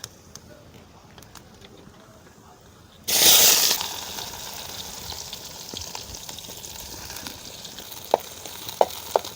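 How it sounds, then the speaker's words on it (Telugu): Onion and mustard seeds drop into hot oil in a pan for a village-style snail curry, setting off a sudden loud sizzle that settles into a steady crackling fry, with a few sharp utensil clicks near the end. "ఆవాలు నూనె వేసుకున్నావు బాండట్లో, కొంచెం ఆవాలు వేసుకోవాలి"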